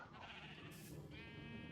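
A sheep bleats in the Minecraft video game, a short wavering cry over a steady background hum, with no one speaking.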